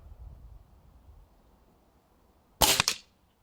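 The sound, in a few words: Air Arms TX200 air rifle shot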